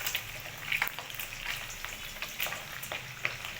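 Paneer fries in hot oil with a steady, soft hiss and scattered light pops and spits, close and continuous, with no talk.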